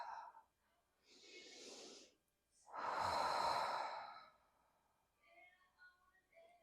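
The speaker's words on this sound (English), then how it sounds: "Inhale those hands up for a nice low lunge. Breathing it here." A few close, soft breaths are heard while holding a yoga low lunge, including a longer, fuller sighing exhale in the middle, with quiet gaps between.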